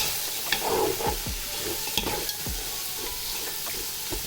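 Masala with coriander and mint leaves stirred and sizzling in a pan, a continuous fry with repeated scraping strokes of a spoon, close and alone with no voices.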